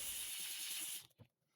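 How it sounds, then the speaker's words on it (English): A Harbor Freight Grant's steam cleaner scrubbing stubborn residue off a floor, a loud steady hiss of steam with rubbing texture that cuts off abruptly, followed by a brief clunk. "The steam cleaner is scrubbing it out right away."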